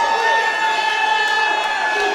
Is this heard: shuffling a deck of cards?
no